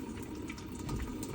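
Tap water runs steadily into a sink as hands are wetted for a handwashing routine, a continuous close splashing rush with no talking.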